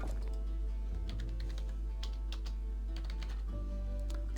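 Rapid keystrokes clatter on a computer keyboard, a steady run of soft close clicks with brief pauses, alone over a low constant hum.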